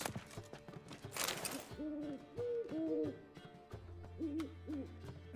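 A bird hooting in the Witcher 3 video game, a series of owl-like hoots rising and falling in pairs over a busy game soundscape with a low hum, moderately close, with no talking.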